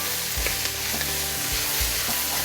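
Chopped bell peppers and celery sizzle steadily in a hot pan for gumbo, with a spoon scraping and stirring through them in several short low thuds over the constant bright hiss, close and alone.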